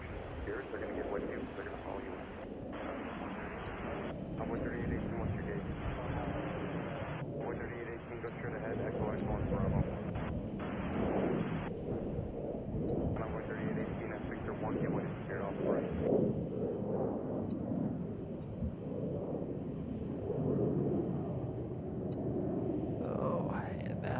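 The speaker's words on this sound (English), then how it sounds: "This is a little Air Canada E-Jet." An Air Canada Express E-Jet departs O'Hare, a steady jet roar rising and holding in the distance while a voice talks quietly over it throughout.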